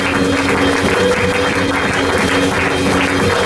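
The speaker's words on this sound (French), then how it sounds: "on acclame très fort le Seigneur pour son serviteur" A church congregation applauds loudly and steadily for a bishop, with dense, sustained clapping that holds even throughout.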